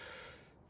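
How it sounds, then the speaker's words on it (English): A single breathy yawn, close and fairly quiet, lasting under a second and tapering off, from a person tired late at night around midnight. "excuse me if I'm yawning, it's midnight here"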